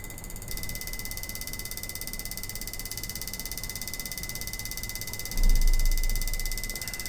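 A ThinkCar GDI200 injector cleaning machine testing injectors gives a fast, steady mechanical clicking with a constant high electronic tone, then a louder low hum swells in near the end; no talk.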